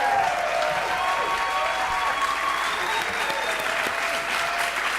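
Talk show studio audience applauding steadily throughout, a dense, sustained wash of clapping with crowd noise, loud and continuous from start to finish, with a host's voice faintly audible over it.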